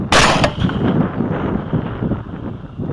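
A rifle shot fired at a running wild boar during a hog hunt, one loud, sharp crack near the start followed by a quick second report and a rolling outdoor echo that fades under wind.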